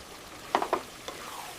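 Chicken goes into a hot pan for Telangana chicken dum biryani, giving a short burst of sizzling and a couple of quick clatters, then quieter frying.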